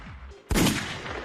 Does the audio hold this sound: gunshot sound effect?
yes